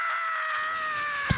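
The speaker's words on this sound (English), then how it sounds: "The Halloween scream comes back." A Halloween scream sound effect: one sustained, high, wavering wail that slides slightly downward and holds steady for over a second, heard alone and fairly loud, ending with a brief sharp click.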